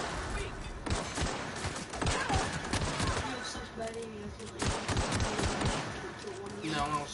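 Rapid bursts of gunfire from The Outer Worlds, several sharp shots cracking in uneven clusters across the stretch, loud and close, mixed with game sounds and some background voice.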